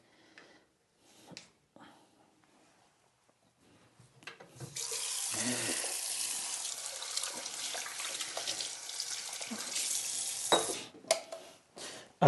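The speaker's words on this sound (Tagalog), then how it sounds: "Hugas muna ng kamay." Hands are washed under a running tap, with quiet clatter at first, then a steady close rush of water for several seconds that cuts off near the end, no voices.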